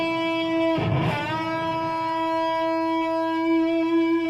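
An electric guitar note bent up a whole step at the 9th fret rings out with a sharp pick attack, then sustains as a clear, steady tone with light distortion.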